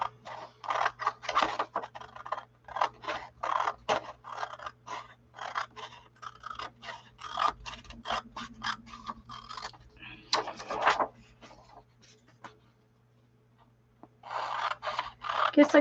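Scissors cutting out small printed lyric strips on paper, a series of crisp, close snipping and rustling bursts in irregular rhythm, with a brief quieter pause near the end.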